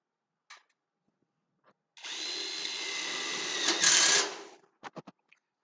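A power drill drives screws into a wall while the wall is being assembled, with one continuous whirring burst of about two and a half seconds that rises slightly at the end, followed by a few sharp knocks.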